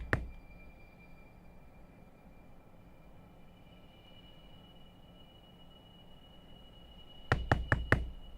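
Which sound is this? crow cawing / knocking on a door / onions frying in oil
knocking on a door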